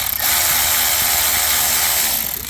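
Power tool or ratchet tightening bolts on the oil filter housing of a 2014 BMW 535d F10 diesel, a steady loud whirring mechanical drone lasting a couple of seconds, close up.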